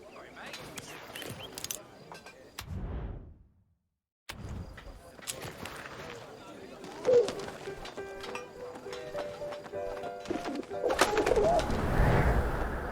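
A pigeon coos in the game 11-11 Memories Retold, soft repeated calls mixed into a busy soundscape with distant sharp bangs and a louder stretch near the end.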